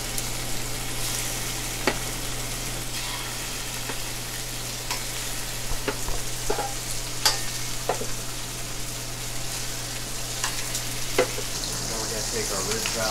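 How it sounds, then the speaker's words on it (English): Pork ribs searing in a hot pan, a steady loud sizzle and crackle running throughout with scattered sharp pops and spits, no voices over it. "all we're going to do is sear these babies"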